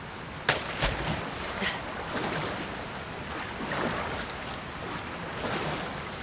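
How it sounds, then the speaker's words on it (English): Rushing water surges continuously while a character rides up a waterfall in Zelda: Tears of the Kingdom, a broad steady wash with a few soft splashes. "I think I'm gonna ride this waterfall upward"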